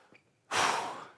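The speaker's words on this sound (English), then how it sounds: "take a deep breath" A single deep breath, a sudden loud rush of air close to the microphone that holds for about half a second and then slowly fades.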